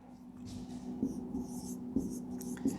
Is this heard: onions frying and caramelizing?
no